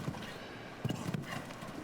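Dull thuds of hooves from a 10-year-old bay gelding show jumper cantering in a grand prix arena, a few irregular beats over a steady outdoor ambience.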